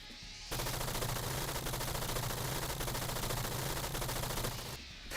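A minigun in a video game demo fires one continuous, loud, rapid burst of shots that runs almost unbroken for about four seconds, then cuts off abruptly.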